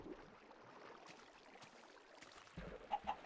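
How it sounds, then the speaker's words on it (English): A video-game chicken clucking, a few short clucks near the end after a quiet stretch of faint ambient game sound, moderately close with no speech. "Oh, I hear a chicken."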